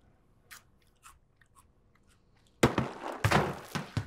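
Close, loud crunching on cheese balls: a few faint clicks, then a burst of sharp, crisp bites and chewing in the last second and a half.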